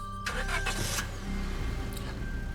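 Police squad car engine in the Scarlet Hollow video game, starting up with a short cranking burst and then settling into a steady mid-pitched running hum at moderate volume.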